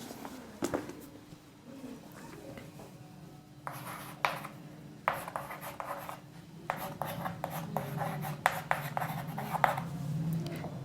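Someone writes on a board during a physics lesson: scratchy strokes and taps come in irregular bursts with short pauses, close and clear over faint room noise.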